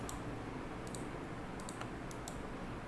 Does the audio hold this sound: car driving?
no